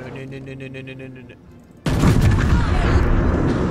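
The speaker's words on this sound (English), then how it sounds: "Typical British battleship firing high explosive." A British battleship fires high explosive shells in a naval battle game, a sudden heavy booming roar that bursts in after a quieter tonal stretch and rumbles on loudly.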